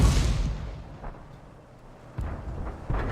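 Tank gunfire booms in a tank video game as shots strike a T29 tank, a heavy blast at the start followed by two more dull thuds of rounds hitting armor, loud and close.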